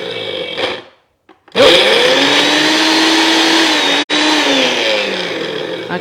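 A Magimix blender whirs loudly as it purees a dip with oil, starting with a short burst, pausing, then running steadily for several seconds with one brief cut in the middle.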